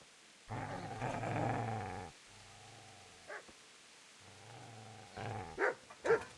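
A dog growls in low, rumbling stretches close by, with pauses between bursts and a few sharper yips and barks near the end.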